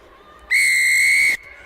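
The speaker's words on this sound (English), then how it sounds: "The referee Willie Fear blowing a whistle" A rugby referee's whistle during a women's rugby match between Pumas and Griffons, one loud, steady blast just under a second long, standing out over faint crowd murmur.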